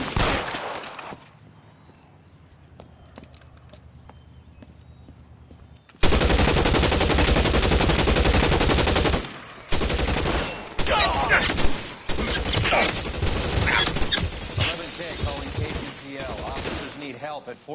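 Sustained automatic gunfire roars loud and close in long crackling bursts, broken by short gaps and sharp shattering impacts, after a quieter opening stretch with a low rumble; voices speak in the background during the shooting.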